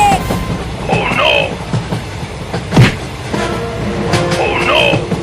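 A train runs on rails with a continuous rumble and clatter, overlaid with bright whistling tones and scattered clanks, fairly loud and close.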